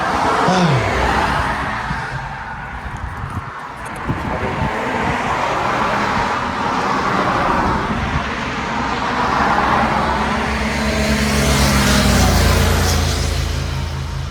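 Cars and other traffic stream along a busy road at lunchtime, a steady, near roar of passing vehicles that swells and fades without a break.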